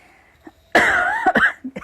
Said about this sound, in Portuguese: eu ainda tô com a tosse ainda do Covid